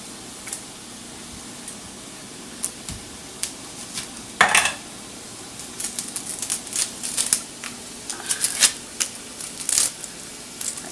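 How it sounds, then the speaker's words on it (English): A kitchen knife chopping an onion on a cutting board, sparse taps at first, then a quick irregular run of sharp knocks, close and alone. "we got one more onion that we want to chop up"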